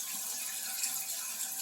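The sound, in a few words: water refilling a toilet tank after turning supply on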